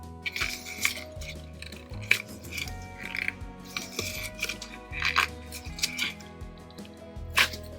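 An apple-shaped resin lid being worked out of its mould, giving a series of small clicks, taps and plasticky creaks with low rubbery scraping, close and intermittent, with no speech.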